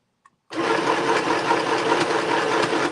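A sewing machine stitches fabric onto a journal page, its motor running in a steady continuous whir close by after a brief tap, with no pauses in the stitching.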